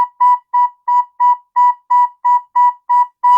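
Recorder playing a run of ten short detached B notes in an even, steady rhythm, clear and close, with silence between each note.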